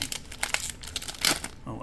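A One Piece EB-03 booster pack wrapper being torn open and crinkled, with brief close foil rips and crackles over about two seconds.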